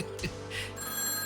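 A telephone rings as a sound effect in a told story, a brief electronic trill burst followed by another under a faint steady hum, fairly close and moderately loud.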